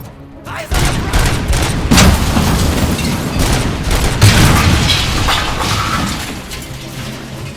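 Explosions in the RoboCop video game, a dense run of booming, wet-sounding blasts following a brief quiet start and continuing loud and steady for several seconds, with no talking over them.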